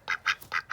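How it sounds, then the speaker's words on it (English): A pet duck quacks four times in quick succession, loud and close, with nothing else in the background. "So first off, we got to start with the duck."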